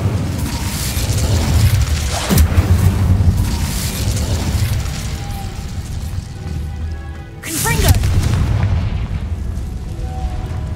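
Incendio fire spell cast in the video game Hogwarts Legacy, a loud burst of flame with booming, crackling impacts, followed by a second whooshing blast, heard under game voices.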